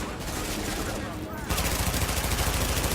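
Rapid automatic gunfire in The Division video game crackles in a dense fusillade, jumping louder halfway through as sustained bursts rattle close and continuous.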